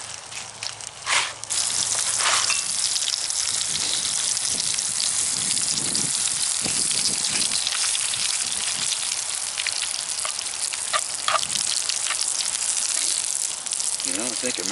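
Bacon and potatoes frying together in one pot, a steady broad sizzle and crackle with scattered pops running throughout, close and fairly loud.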